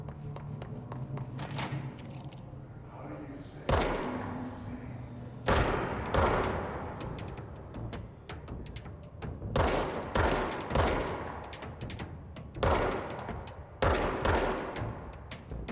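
Bursts of gunfire in the video game Control, several separate volleys spaced a few seconds apart, loud and sharp over a low ambient game drone.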